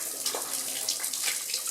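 Water running and splashing in an old railway tunnel with heavy water ingress, a continuous hissy trickle with scattered drips nearby, no voices.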